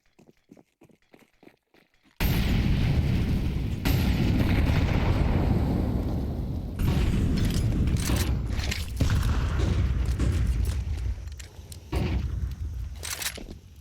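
Three grenades going off in quick succession in the middle of a Counter-Strike 2 map during a G2 esports match, loud booming blasts with long rumbling tails after a quiet lead-in of faint clicks.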